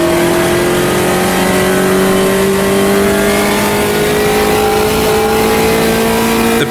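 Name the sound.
Puma race car engine revving, video game Automobilista 2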